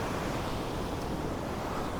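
Rough ocean surf at Candolim Beach in Goa rushes in a steady, broad wash of noise, with some wind buffeting the microphone and no voices.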